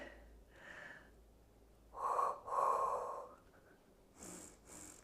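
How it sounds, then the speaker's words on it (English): Pilates breathing during a weighted full-body workout, soft audible inhales followed by two stronger, breathy exhales in the middle and two short sharp puffs at the end, close and fairly quiet. "So if you want to add that Pilates breathing, it's 2 exhales forward, 2 inhales back"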